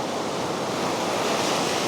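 Ocean surf at the rocky coast of Los Tubos in Manatí, Puerto Rico, a steady loud wash of breaking waves with wind noise on the microphone, alone without talk.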